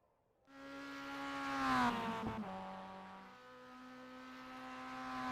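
Mazda MX-5 Miata race car on the Long Beach street circuit during an MX-5 Cup session, engine rising in a strong rev then settling into a steady sustained drone, with a sharp transient midway, heard alone.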